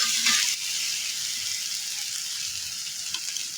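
Crushed onion and green chilies hit a hot pan while cooking hilsa fish with ridge gourd, giving a steady, bright sizzle and hiss that stays fairly loud throughout.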